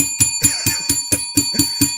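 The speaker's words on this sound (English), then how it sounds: "Let's ring the bell for that." A bell rung repeatedly in quick succession, about nine sharp metallic strikes with ringing tones sustained between hits, loud and close, with no talking.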